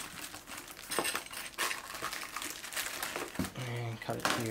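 Knife slashing open a cardboard box holding sim racing pedals, heard as scraping, tearing and crinkling cardboard in quick bursts at close range, with some clinks near the end.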